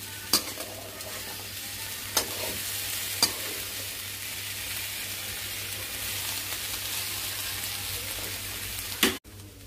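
Boiled potato fry with green chilli, ginger and salt being stirred in a pan, a steady soft sizzle with a few sharp spoon scrapes and clicks, close and fairly quiet, no voices.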